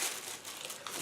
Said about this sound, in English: Put it into small plastic bags.